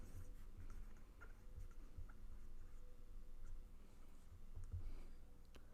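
Pen or pencil scratching on paper while a factored algebra expression is written out by hand, a soft continuous scratch with small ticks and taps, close and quiet, no voice.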